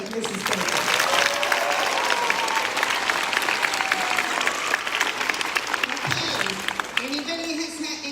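A school assembly audience at Summit Christian Academy applauds to congratulate teacher Mrs. Baker, sustained dense clapping from a large crowd, loud and steady, with a few voices mixed in before it tapers off.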